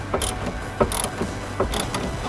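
Ratcheting clicks from tightening a terminal clamp on a new car battery in a BMW F30, coming in short repeated bursts that are close and fairly quiet, with no talking.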